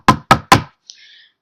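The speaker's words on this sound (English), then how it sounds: "knock on wood, y'all" Three sharp, close knocks on wood in quick, even succession, followed by a faint, brief high shimmer.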